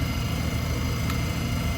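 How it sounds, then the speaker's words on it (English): A noisy electric fan whirs steadily in a room during a straight razor shave, a constant broadband hum with a low droning tone and no breaks. "I apologize that this fan is making so much noise"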